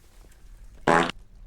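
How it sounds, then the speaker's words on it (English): A single canned fart sound effect from the Dwarf Fortress video game, one loud burst of roughly a quarter second that stands alone over faint background hum. "Maybe the day will come when I don't laugh at that same canned fart noise"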